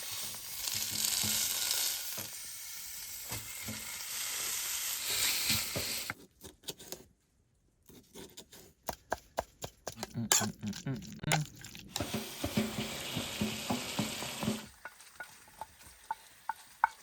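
Bacon sizzling in a pan at a winter campsite on the frozen Curonian Lagoon, steady crackling and frying with stirring and scraping, broken by a quiet gap and bursts of clatter, with a voice speaking at times.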